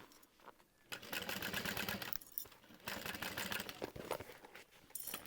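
A sewing machine stitches a seam on a small Regina Phalange handbag sewn in the round, running in several bursts of rapid, buzzing stitching broken by short pauses, close and clear with no talking.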